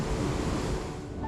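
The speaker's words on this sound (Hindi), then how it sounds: "ये जो छोटी जो स्ट्रीम्स बहती है यहाँ पे" Small mountain streams rush along a Himalayan trail on the Hamta Pass trek, giving a steady, broad, close wash of flowing water mixed with wind noise on the microphone, with no voices.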